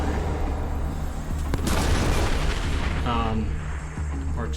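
An explosion in the game Oddworld: Soulstorm lands as a loud, dense boom with crackling debris in the middle, over a constant bed of game noise, followed by a few faint tonal chimes.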